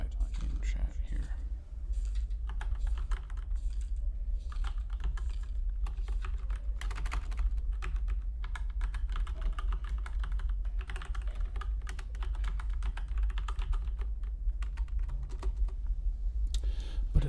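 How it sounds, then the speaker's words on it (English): Rapid, steady clicking of fingers typing on a computer keyboard, close and continuous for many seconds, with a faint low hum and occasional soft speech underneath. "Let me type in chat here."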